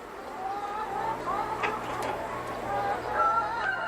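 Hens in a free-range poultry farm housing about two thousand birds on soil bedded with straw cluck and call in overlapping, uneven bursts at moderate volume, with no clear lead voice.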